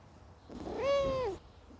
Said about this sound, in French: je vous présente juste vite fait le petit chat que je garde